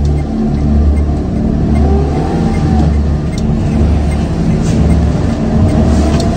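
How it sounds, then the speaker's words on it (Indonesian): A car's engine revs and pulls away on a quiet road as the driver presses hard on the accelerator, a steady loud drone with rising engine tone and road rumble throughout. "Lalu, ia mulai menancapkan gasnya kembali."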